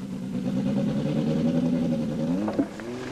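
Renault 5 Turbo rally car engine being tested with different turbo setups, a steady mid-pitched drone holding near and loud, then a brief rise and blip of revs near the end.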